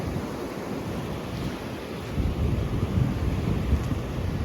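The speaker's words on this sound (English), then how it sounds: "Oh yeah, tide's coming in." Ocean waves roll in with the rising tide along a New Zealand coast on the Hollyford Track, a steady wash of surf under gusty wind buffeting the microphone, growing louder midway, with no voices.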